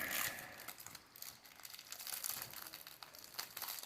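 Packaging of a Yu-Gi-Oh Legendary Box Set 2 being opened by hand, close crinkling and crumpling of plastic and card with irregular bursts of rustle and tearing, fairly quiet with no talking.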